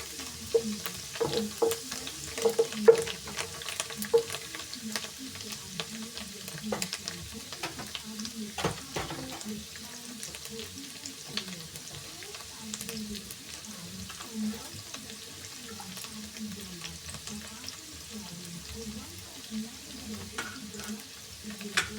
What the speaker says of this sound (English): Let the coriander cook a little bit.